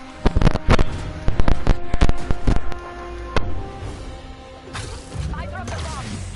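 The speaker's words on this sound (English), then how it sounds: "I dropped the bomb." Bomb blasts in the Spider-Man PS4 video game, a rapid burst of sharp explosive cracks and crashes close together at the start, then a single later hit and fading debris, with voices talking over part of it.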